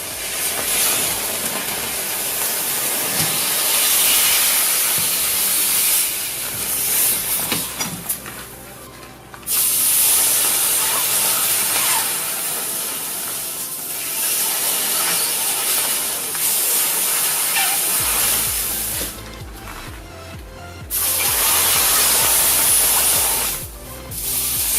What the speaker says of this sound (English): it does steam up and cook that orange quite a bit